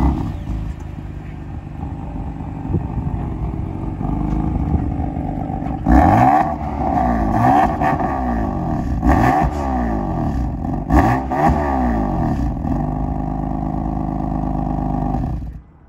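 A BMW F80 M3 and a Ford Mustang 5.0 rev their engines up close, a loud steady idle broken by repeated sharp throttle blips that rise and fall in pitch, with crackles between revs.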